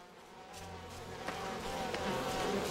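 Steady swarm of bees buzzing in the We Happy Few video game, a dense continuous drone that holds close and fairly loud throughout without any talk.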